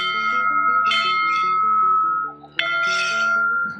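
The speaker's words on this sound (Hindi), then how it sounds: "दाहिने हाथ से 3 बार भगवान का घंटा बजाना चाहिए।" A hand-rung temple bell in a Hindu shrine, struck twice with bright metallic clangs that ring on with long, sustained tones, loud and close, with the second strike coming after the first has partly faded.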